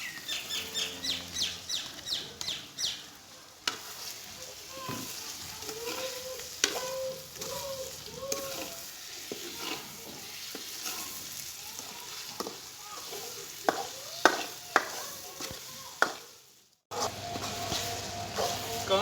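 Chicken gizzards and liver sizzle and fry in a pan at a village dhaba-style cook, with steady spatula stirring and scraping throughout and faint bird calls in the background.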